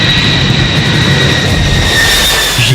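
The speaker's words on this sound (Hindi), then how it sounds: "लेकिन उससे पहले एक बार फिर लौटते हैं अमेरिका के बॉम्बर B-52 विमानों की तरफ।" A US B-52 bomber flies overhead, a loud, continuous jet engine roar with a steady high whine, heavy and unbroken throughout.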